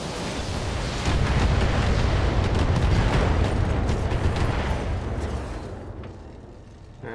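Heavy weapons fire on an enemy Locust mech in a BattleTech-style video game: a dense, sustained barrage of booming blasts and rumbling impacts for about five seconds, then fading.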